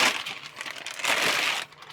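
Plastic bag crinkling and rustling around a car radio head unit for a 2015 Chevy Colorado Z71, a steady close crackle with two denser bursts, no talking.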